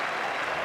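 Cricket crowd at the Adelaide ground applauding during an Ashes Test between Australia and England, a dense, steady wash of clapping that fills the whole short stretch with no gaps.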